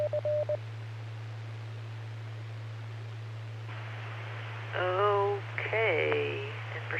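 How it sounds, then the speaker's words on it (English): Amateur radio repeater on a ham net: a steady low hum, a short tone near the start, then bursts of noise with warbling squelch chirps as the carrier drops, alone with no voices. "It sounded like the squelch tail from Search City."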